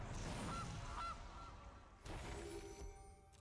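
A goose honk sound effect from a Magic: The Gathering video game: a few nasal honks early on, then a harsher burst partway through, faint and set over low background noise.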